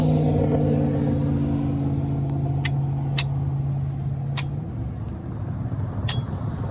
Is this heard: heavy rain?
no